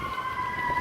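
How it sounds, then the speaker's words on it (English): A fire engine siren wails steadily nearby in a brief, sustained tone as the truck goes by on the street, heard alone without talk. "there's a fire engine going by"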